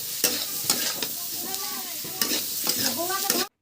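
Potatoes with salt and turmeric are stirred in a hot cooking pan, with a spoon scraping repeatedly over a bright, continuous sizzle and no talking, until the sound cuts off abruptly.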